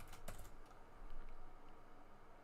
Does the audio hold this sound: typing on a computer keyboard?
yes